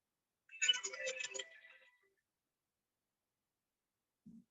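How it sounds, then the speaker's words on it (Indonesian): A child's mobile phone rings at home, a short patterned ringtone burst of about a second and a half that fades out, followed by silence and a faint low sound at the end. "Ada handphone anak saya berbunyi."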